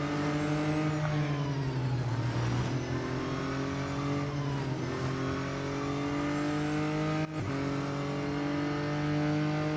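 Racing car engines roar steadily in Real Racing 3, with a sustained loud drone and shifting pitch as cars accelerate and change gear, one brief dip in the middle, and no talk.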